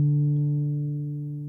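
Soft sustained guitar tones hum on after the D string is muted, other strings ringing by sympathetic resonance, a quiet steady ring slowly fading with no new plucks.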